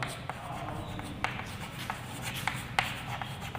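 Writing on a board during a class XII physics lecture, scratchy strokes and taps of the writing tool in short irregular bursts, close, with room noise underneath.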